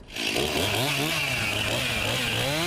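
A chainsaw cuts through the base of a pine Christmas tree at a garden center, its engine roaring loud and close after a quick start, the pitch rising and falling as the blade bites into the trunk.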